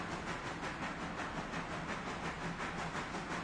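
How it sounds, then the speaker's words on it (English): A train shunting railroad cars in a railroad video game: steady rumbling with hissing noise and faint rhythmic clatter, moderately quiet and continuous. "Shunting is when you're pushing the cars."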